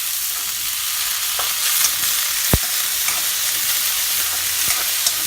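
Onion, potatoes and peas fry for kande pohe with a bright, continuous sizzle, broken by occasional spoon taps and stirring scrapes against the pan. It sounds close and fairly loud, with no voices.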